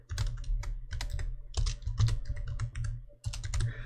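Quick, steady keystrokes on a computer keyboard while entering simple PHP code, close and crisp clatter in short bursts with brief pauses, no voices.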